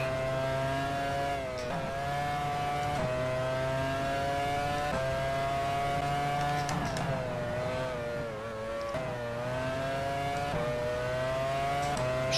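Formula 1 race car engines in the game F1 Challenge 99-02, at the Malaysia circuit, wail high and steady and climb in pitch again and again as the car shifts up through the gears, loud and close with no voices.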